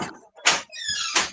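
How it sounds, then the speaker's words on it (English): A door nearby in a home pushed shut, with a couple of sharp knocking bursts and a brief rising squeak from the hinge between them, fairly loud against an otherwise quiet room. "go shut my door"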